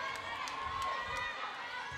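A crowd at a girls volleyball match between Leigh and Branham cheers and murmurs in a steady, enthusiastic wash, with a voice speaking over it.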